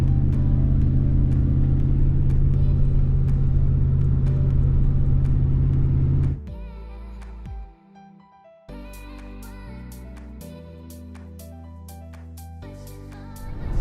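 A 2019 Ram Rebel pickup truck drives along a beach, its engine a loud, steady low rumble that then drops and shifts into uneven lower droning with some clunks, with no one talking.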